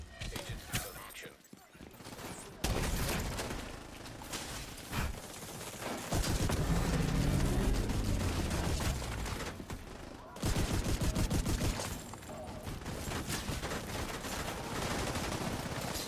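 Bursts of automatic gunfire from The Division 2 come in rapid clusters, loud and near, broken by short pauses, with voices talking over some of the shooting.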